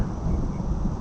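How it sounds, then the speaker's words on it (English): A short stretch of low thunder rumbling in a storm over a backyard pumpkin patch, deep and continuous, with a hint of rain and no voices. "but there's some more thunder"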